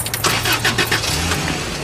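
A car engine cranks and catches, starting up with a rough churning rattle that settles into a low running rumble, close by, on a used car with a valve problem.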